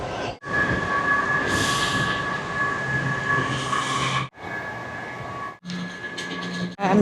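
A Washington DC metro train rumbling along the tracks with a steady high whine, loud and continuous, broken by a few brief near-silent gaps. No one speaks.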